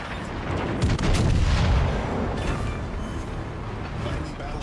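Naval artillery booming in World of Warships, a heavy roar that swells into a long rumbling blast and then fades into a low background rumble.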